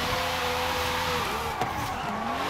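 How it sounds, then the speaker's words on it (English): Tires of a 1994 Ford Supervan with a V12 spinning as it drifts in an AWD drift tune, a steady engine drone with sliding tire squeal sweeping through it, loud and close throughout. "Able to spin tire right there."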